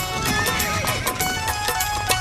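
Horses neighing with clip-clopping hooves, a busy sound effect of a mounted army on the march, continuous and fairly loud throughout.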